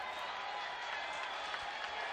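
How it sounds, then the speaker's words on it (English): Crowd noise from spectators at a baseball game at Clover Park, a steady broadband roar of cheering and applause that stays even and fairly distant across the moment, with no single voice standing out. "There's our fantastic crowd here at Clover Park tonight"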